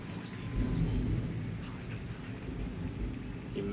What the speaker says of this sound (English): You might hear thunder in the background.